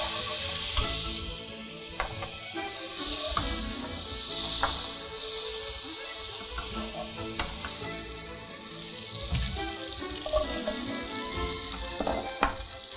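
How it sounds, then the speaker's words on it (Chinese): Black pepper sizzles steadily in a hot pan while diced tenderloin steak is cooked, a loud continuous frying hiss broken by scattered crackles and pops, with no talking. "我们就赶快的把我们今天所需要的黑胡椒做一个香气的爆香动作"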